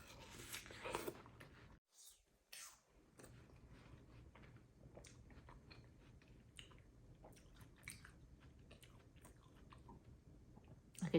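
Close, quiet chewing of juicy, soft homegrown watermelon, with wet squishy bites and mouth sounds repeating in irregular bursts and a short pause early on.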